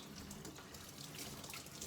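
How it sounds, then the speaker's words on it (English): Running tap water rinsing a CPAP mask cushion under a faucet, a steady soft splashing hiss that stays even and fairly faint throughout. "I'm gonna thoroughly rinse the cushion."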